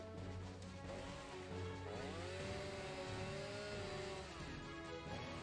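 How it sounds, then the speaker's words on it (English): A chainsaw roars steadily in the Touhou LostWord video game, a continuous buzzing engine drone with a rising and falling whine, mixed with background game music. "My chainsaw is out of control!"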